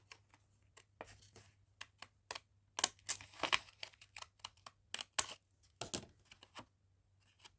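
Paper is trimmed along its edge for card making, giving a quiet, irregular series of small crisp snips and crinkles close by.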